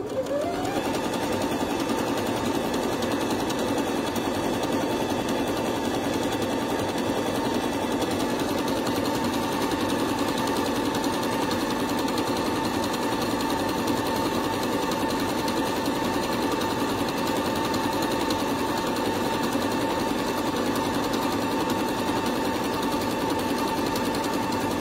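An electric sewing machine, started and stopped with its start/stop button instead of a foot pedal, stitches continuously with a steady, even mechanical whir throughout.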